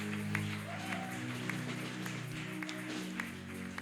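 A church congregation at a morning prayer service breaks into steady applause, a dense, even patter of many hands filling the room under organ-like sustained tones.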